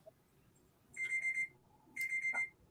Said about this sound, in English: I got a little alarm going off here somewhere in my kid's bag